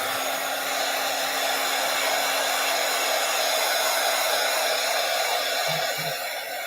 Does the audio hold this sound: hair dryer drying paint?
yes